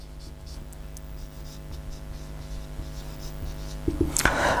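Chalk or marker writing on a board during a chemistry class, with faint steady scratching strokes over low background hum, ending in a louder scrape or tap near the end.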